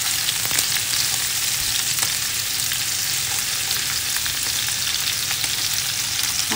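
Bottle gourd (upo) and chicken wings sauté in a pan with a loud, steady sizzle and faint stirring scrapes, no one talking.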